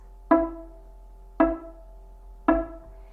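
A single violin E note on the D string bowed three times in a row, each stroke attacking crisply and then decaying. The strokes are about a second apart, with no voices.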